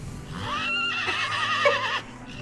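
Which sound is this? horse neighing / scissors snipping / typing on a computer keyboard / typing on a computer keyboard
horse neighing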